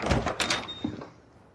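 A front door in a film scene opens with a short wooden thunk and a faint rattle, followed by a softer knock-like thud before fading out.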